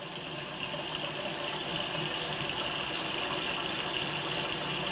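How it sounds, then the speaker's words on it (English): Water drains steadily out of a held container over a kitchen sink, a continuous close splashing trickle that holds even for the whole stretch with no talk over it. "you want to hold it over the sink and let it drain out"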